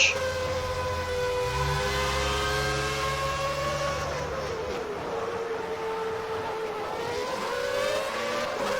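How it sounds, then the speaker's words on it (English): Williams Renault Formula 1 engines in the rFactor racing game at the South African Grand Prix, a loud sustained high-pitched wail with rising and falling pitch as several cars run together, steady throughout with no talk. "It's going to get nice, just symphony of their engines."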